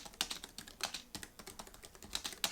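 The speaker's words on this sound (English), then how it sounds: "You can type comfortably day or night with the large concave laser edge keys with auto adjusting backlighting and the Logitech perfect stroke scissor key system" Someone types on a Logitech MX900 keyboard with low-profile scissor keys, producing quick, irregular bursts of soft, crisp key clicks close up and alone, with short pauses between runs of keystrokes.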